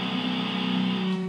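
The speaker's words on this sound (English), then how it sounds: "But this is the sound of the B string, the low B string." The low B string on a seven-string guitar rings out as one sustained, steady low note with strong harmonics. It is close and clear, with no talk over it.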